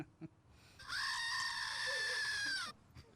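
A goat scream sound effect, a single loud, sustained, strained bleat lasting close to two seconds, preceded by a short knock and faint background noise.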